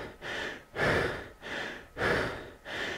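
Heavy, rhythmic breathing after an intense indoor rowing workout of eight two-minute intervals, with loud alternating inhales and exhales repeating about every 1.2 seconds, close and alone.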